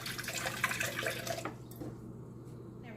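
Water pours into a measuring cup in a home kitchen, a close splashing trickle for about a second and a half, then stops, leaving quiet room tone with faint drips.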